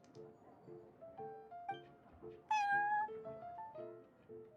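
A cat in the Genshin Impact card game meows once, a loud drawn-out cry rising above a soft melodic game tune that plays throughout.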